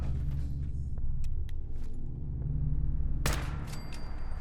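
A combat rifle with a .308 receiver fires at a robot in Fallout 4, sounding as a few separated shots over a low rumble, followed by a louder burst of impacts near the end.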